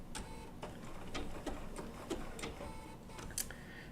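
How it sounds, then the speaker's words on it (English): A Bernina B790 PRO sewing machine with an open toe foot stitches wool appliqué, a quiet, rapid mechanical chatter with light ticking clicks, steady and close. "Just let the machine feed the fabric in"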